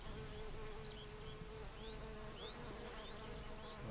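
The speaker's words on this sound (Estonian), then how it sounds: "nagu näiteks siin üks kimane lendab ringi" A bumblebee flies around raspberry flowers, its buzzing hum steady and fairly faint against a continuous outdoor background, with small birds chirping now and then in the distance.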